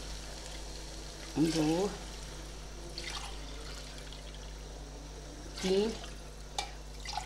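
Water poured into a pot of soaked rice for green chickpea pulao, with two short splashing bursts separated by quiet stretches and a brief spoken word.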